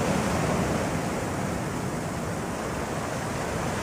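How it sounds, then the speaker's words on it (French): Ocean waves wash steadily against the shore of Gorée island at night, a continuous broad surf roar at even loudness with no voices. "Seul bruit à Gorée, celui des vagues."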